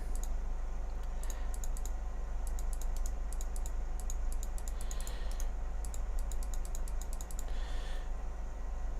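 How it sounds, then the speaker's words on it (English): Rapid mouse clicking while playing the submarine game Silent Hunter 3, bursts of quick sharp clicks in irregular clusters over a steady low electrical hum, fairly faint and close. "I'm clicking like a mad thing"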